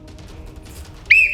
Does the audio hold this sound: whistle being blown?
yes